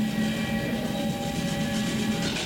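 A passenger train leaves the station with a steady, dense rolling rumble and faint tonal whines above it, heard continuously with no talking.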